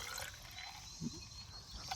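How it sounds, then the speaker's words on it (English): Coolant pours slowly into the radiator of an abandoned 1970 V8 Mustang, a faint, thin trickle with a soft splash or two against quiet background noise. "Oh, we're pouring out coolant on this side too."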